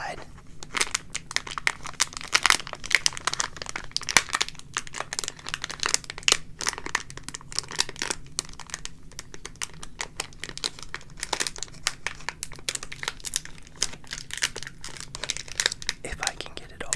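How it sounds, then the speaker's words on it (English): A 2024 NFL Panini Zenith trading card pack is cut and torn open up close, with steady crinkling and crackling of foil wrapper over soft whispering. "let's cut into the Panini Zenith pack first"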